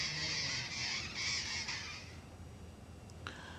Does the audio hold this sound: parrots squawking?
yes